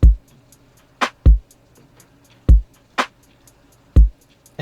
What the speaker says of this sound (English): we get left with drums that sound like this.